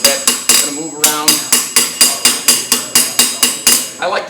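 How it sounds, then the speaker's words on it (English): Steady hammer blows ring on metal over an anvil, close and loud, about a dozen evenly spaced strikes with a brief pause near the middle, no one talking. "So we're just going to hammer this guy a little bit."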